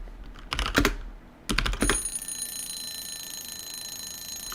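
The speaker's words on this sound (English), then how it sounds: "That is the Pomodoro timer going off" A Pomodoro timer alarm rings out as a steady high electronic tone after a burst of quick keyboard typing, continuing at moderate level to the end.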